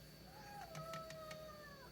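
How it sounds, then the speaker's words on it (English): A cat cries with drawn-out, wavering meows that rise and fall, close and fairly loud over a steady background hum, with no talking. "This cat's crying"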